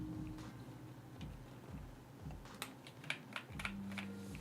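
Typing on a computer keyboard with fresh switches, quick soft keystroke clicks that come in uneven bursts and build to a few sharper taps near the end, with no talk.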